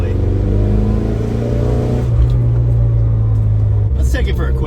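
A 1981 Dodge Challenger engine held under throttle drones loudly and steadily with a deep mid-pitched rumble, its note shifting slightly as it revs. Near the end there are brief pops.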